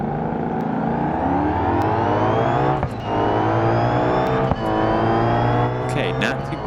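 Car engine in BeamNG revving steadily in first gear, a loud continuous drone rising and falling in pitch with brief dips, while someone talks over it.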